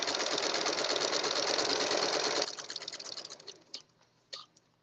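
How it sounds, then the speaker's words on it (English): A sewing machine runs steadily as it stitches the seam of a girl's dress sash, loud and close, then stops partway through, leaving a few faint clicks and handling knocks. "Keep sewing because I'm closing up my seam."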